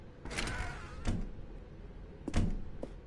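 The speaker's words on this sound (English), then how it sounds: "Stanley walked through the red door." Door sounds from The Stanley Parable as Stanley passes through the red door: a few short thunks and clatters, near and fairly loud, with quiet room tone between them.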